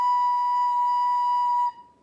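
A recorder plays a single sustained B note, clear and steady like a pure whistle, held for about 1.7 seconds before cutting off, close and alone.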